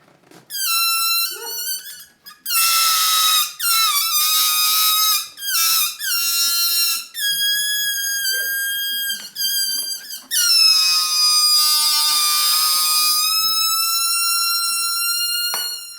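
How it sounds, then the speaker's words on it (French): A performer in a live sound poetry piece produces high, piercing squeals and whistling tones with the breath, in long held bursts broken by short pauses, loud and close, with no talking. "Juste le bruit de mon souffle."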